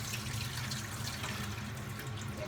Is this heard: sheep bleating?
no